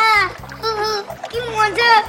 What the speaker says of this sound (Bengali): কিটি, এই দেখো আমরা সাঁতার কাটছি।